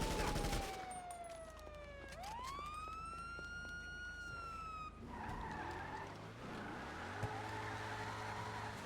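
A car in the GTA video game drives away from the beach, tires skidding while a police siren sweeps up and down nearby, engine tones shifting as the vehicle speeds along with no talk.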